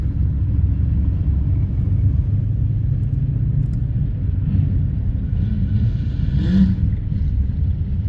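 A drag car engine idles and rumbles during a tune test with a second fuel pump and a Haltech Rebel setup, a loud, steady low drone close by with a slight rise near the end.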